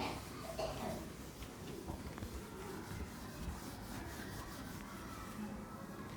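Chalk or a duster rubbing across a classroom board during a differentiation lecture, a steady scraping wipe running throughout, close and moderately loud.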